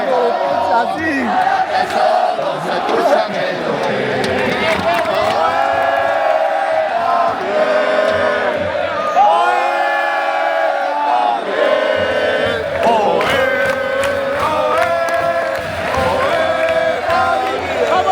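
A football stadium crowd at a Cadiz match chants and cheers loudly, voices joining in rhythmic, sung chants that rise and fall over a constant roar, continuous throughout.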